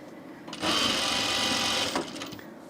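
A Juki sewing machine stitches a shirt, its steady motor whir starting abruptly, running loud and close for over a second, then stopping.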